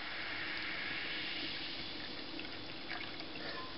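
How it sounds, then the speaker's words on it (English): Pear cider pours into a pint glass in one steady, close, continuous gush of liquid with no pauses and no one speaking. "we'll see what it smells like when I've poured this full pint out"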